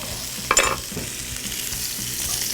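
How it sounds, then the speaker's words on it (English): Tuna hits hot oil with a bright burst of sizzle, then settles into a steady, loud crackling fry. "When I flip it, I'm gonna pour some more oil, find an open space of oil, flip it right into the oil"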